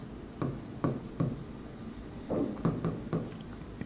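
A pen scratches on paper in a series of short, rhythmic strokes, close up and clear, as an accounting sum is written out.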